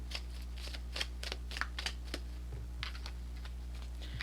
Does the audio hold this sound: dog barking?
no